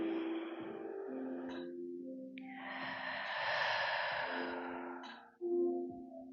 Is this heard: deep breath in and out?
yes